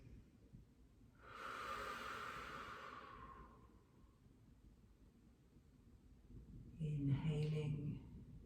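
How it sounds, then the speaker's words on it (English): Slow, deep yoga breaths during a pregnancy yoga practice: one long airy inhale-exhale, then a pause and a second breath with a faint voiced edge, close and quiet. "Inhaling and exhaling. Keep going with the breath."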